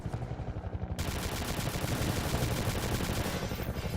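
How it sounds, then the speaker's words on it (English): Rapid bursts of video game gunfire crackle loudly and continuously, automatic fire dense with repeated shots throughout, no talking. "I'll hit it with guns."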